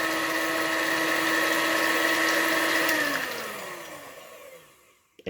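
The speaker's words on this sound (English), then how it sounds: "I really want to turn this thing up on high and blend it" A blender whirs through pumpkin pie filling, a loud steady motor whine that holds for about three seconds and then winds down and dies away as it is switched off.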